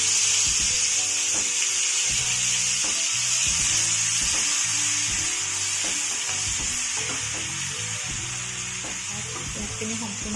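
Onions sizzling and frying in a pan for an Assamese masala fish curry, a steady bright crackle with occasional stirring clatter throughout.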